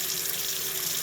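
A kitchen or bathroom tap runs steadily, water streaming onto a facial tissue used to wipe glass clean; a continuous close hiss with no talk.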